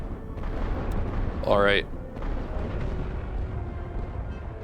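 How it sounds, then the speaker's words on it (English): Artillery fire and shell explosions rumble in the World War I strategy game The Great War: Western Front, as low, steady booms under a voice, with a brief rising whistle partway through. "They are trying to counter battery my light artillery."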